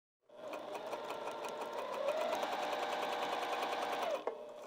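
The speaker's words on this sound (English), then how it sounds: "this elastic as we're sewing the fabric together" A sewing machine stitches fabric with elastic for lounge pants, running in one steady, close, continuous whir for several seconds before stopping abruptly.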